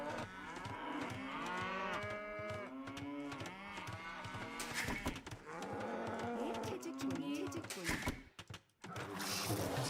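Cattle moo repeatedly in the real-time strategy game Age of Empires II, loud drawn-out lowing calls overlapping one another alongside game effects, with a voice speaking at times.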